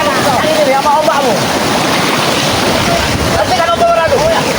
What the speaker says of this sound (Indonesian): Nah, ombakmu sangat kencang sekali.